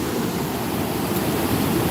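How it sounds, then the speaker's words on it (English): Ocean waves washing up against rocks, a steady close roar of surf and spray filling the whole stretch with no voices. "I'm just hoping I'm not risking my life sitting on these rocks because the waves are coming up."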